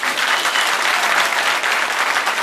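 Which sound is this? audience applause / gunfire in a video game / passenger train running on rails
audience applause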